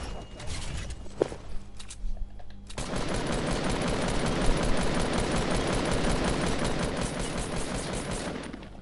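Shooter video game gunfire: a few scattered shots and mechanical clicks, then a loud, dense, sustained burst of rapid automatic fire that runs unbroken to the end.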